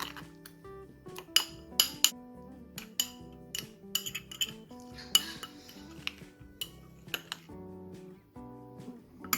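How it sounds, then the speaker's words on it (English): A spoon scrapes and clinks unevenly against a bowl while a cinnamon mixture is stirred into a paste, with sharp metallic taps scattered between softer rubbing strokes. "And you mix it all together until it's a nice paste."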